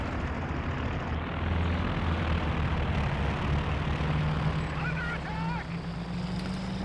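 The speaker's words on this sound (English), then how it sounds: "you just have to respect those two close air support anti-tank planes" Propeller engine drone of close air support anti-tank planes in Company of Heroes 2, a steady loud roar running throughout beneath battle noise and a talking commentator.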